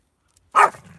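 A single sharp, loud bark from a ratter dog hunting a rat on Salt Spring Island, Canada, close by, following a moment of silence and trailing into faint low rustling.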